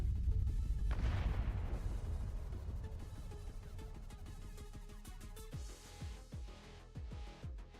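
A large detonation booms out, then long rumbling debris and low impacts trail off, with several sharp crashes late on.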